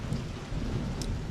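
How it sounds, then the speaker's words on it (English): Deep, continuous rumbling thunder from a storm passing less than two miles from a front porch just after a lightning bolt, rolling low and steady with a light patter of rain over it. "this rumbling thunder lasts for 52 seconds"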